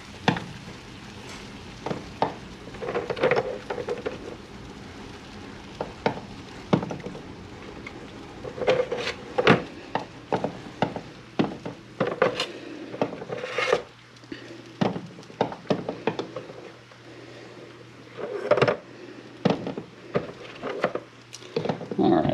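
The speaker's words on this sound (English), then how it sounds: "We're just going to drop some eggs in here." A dozen backyard chicken eggs dropped one by one into a pot of boiling water, giving irregular knocks and clunks against the pot over a bubbling hiss, with a person talking throughout.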